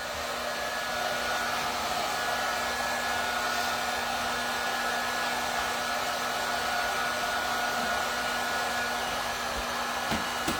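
A hair dryer blows steadily and loudly for the whole stretch, a constant close whir with a faint hum, used to dry a wet object just fished out of a jar.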